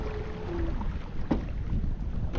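Newport NK180PRO electric trolling motor driving a kayak at full throttle, a steady churning wash of water and wind noise with a brief whine early on and a couple of splashy bursts as the boat spins.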